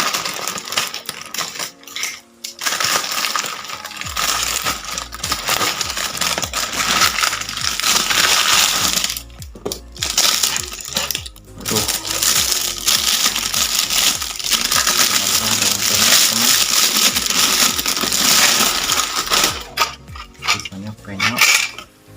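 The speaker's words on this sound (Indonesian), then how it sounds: "Kita potong kardusnya." A cardboard shipping box holding a racing motorcycle exhaust is cut open by hand, with close, loud scraping, tearing and rustling of the cardboard in irregular bursts and short pauses.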